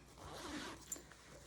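A zipper on the inside pocket of a 45-litre canvas weekender duffle bag being drawn open, a soft continuous rasp with a brief sharper tick near the end, close and quiet.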